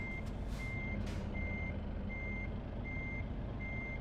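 A truck in Euro Truck Simulator 2 with its reversing alarm sounding steady, evenly spaced beeps over a low idling engine rumble, with a couple of brief hissing bursts near the start.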